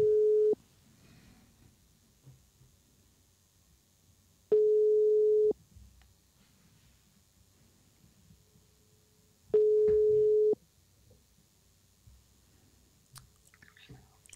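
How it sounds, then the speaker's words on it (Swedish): Telephone line tone while a call is placed: three separate steady beeps about a second long, spaced roughly five seconds apart, with quiet clicks and faint handling noise between them. "Vi ringer väl upp och kollar."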